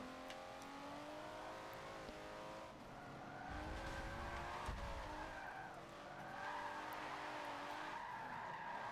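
A car drifting in Forza Motorsport 7, fitted with turbos, its engine droning and revving while tires squeal and skid in sustained sweeping tones, loud and close throughout.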